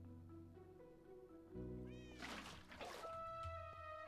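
A cat in Minecraft with the Cobblemon mod gives a couple of drawn-out meows over sustained background music, fairly quiet overall.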